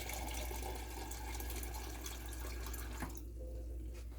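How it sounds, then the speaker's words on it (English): Water pours steadily to fill the sealing rim of a fermenting crock, a faint, continuous splashing trickle that thins out near the end, with no one talking. "at this point I'm going to fill this up with water"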